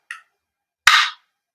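A WE Glock 17 Gen 5 gas blowback airsoft pistol gives a light click, then its trigger is pulled for one sharp, close metallic snap with a short rattling tail, then silence.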